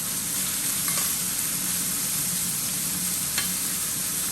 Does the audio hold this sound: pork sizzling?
yes